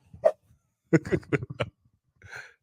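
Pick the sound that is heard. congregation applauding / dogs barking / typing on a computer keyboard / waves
dogs barking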